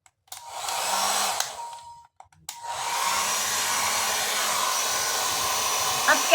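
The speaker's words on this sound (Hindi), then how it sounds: "अब करते हैं हमारा hair dry with the help of dryer and come" A hair dryer on a medium setting blows steadily while hair is dried and combed, its broadband whoosh starting, cutting out briefly, then resuming loud and continuous to the end.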